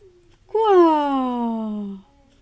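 CJ, a pet cat, gives one drawn-out whining meow lasting over a second, close and clear, its pitch sliding slowly downward, in a quiet room.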